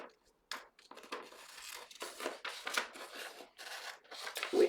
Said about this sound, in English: So again, we cut off 5, 6, 7 right hand side.